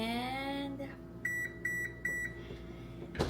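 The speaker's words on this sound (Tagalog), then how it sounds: "sinet ko yung oven for 375 degrees Fahrenheit and I will set the timer for 20" A kitchen oven's control panel gives three short electronic beeps in a steady rhythm as a temperature of 375 degrees Fahrenheit and a 20-minute timer are entered, heard close against a low background hum.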